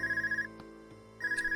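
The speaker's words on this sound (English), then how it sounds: "Cell phone. It's coming from the devices we received with the Academy guidebook." A cell phone in Trails of Cold Steel, a video game, rings with two bursts of a warbling electronic trill separated by a quiet gap holding a couple of faint clicks.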